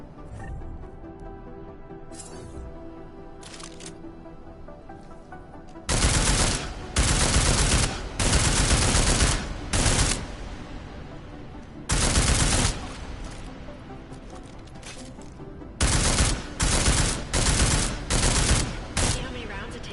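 Automatic gunfire strikes an armored target in the video game Deus Ex: Mankind Divided, loud bursts of rapid shots separated by quiet pauses, repeated several times.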